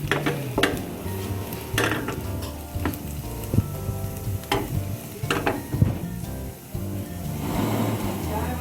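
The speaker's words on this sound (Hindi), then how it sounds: "थोड़ा सा और इसको फ्राई करेंगे।" Onions sizzling and frying in a pan while being stirred for street-style masala Maggi, a steady loud sizzle broken by scraping and clinking of the spatula against the pan, with no talking.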